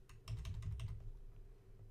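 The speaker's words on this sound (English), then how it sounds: "when I type you can hear it" Keys tapped on a computer keyboard in a quiet room, a quick cluster of soft close clicks in the first second, followed by a lingering low hum.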